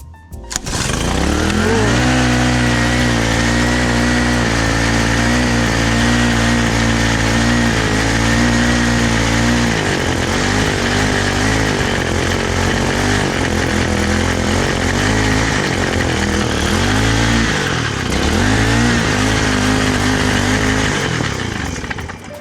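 A Honda Holiday FG201H tiller engine with a suspect throttle fires up and runs steadily, a loud, continuous close-up putter that wavers slightly in pitch without stopping.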